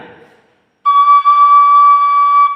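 A Thai khlui flute sounds a single sustained high C sharp, a clear steady pure tone held for nearly two seconds after a brief murmur of voice, close and alone.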